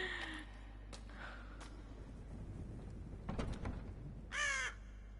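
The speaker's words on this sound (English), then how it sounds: "I guess there's a crow or something outside." A crow caws in the dark setting of the horror game Death Mark: a couple of faint calls early on, then a louder harsh caw near the end over a quiet low hum.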